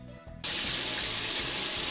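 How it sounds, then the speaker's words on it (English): Shower head in a video game spraying icy water, a steady loud hiss of spray that bursts on abruptly after a short lull of low background sound and then runs on without letup. "I spray the girls with icy water from the shower head"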